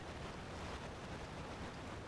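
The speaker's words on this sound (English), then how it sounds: "I don't know why the fucking waterfall is so loud in this section" Loud waterfall in the SpongeBob Battle for Bikini Bottom video game, a steady broadband roar of rushing water with no breaks, filling the whole clip.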